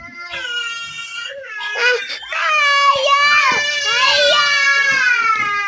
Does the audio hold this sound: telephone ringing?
no